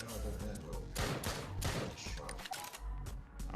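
Rapid Mac 10 gunfire in a zombie shooter video game, dense overlapping bursts of shots in fast volleys mixed with game sounds, with a voice talking throughout.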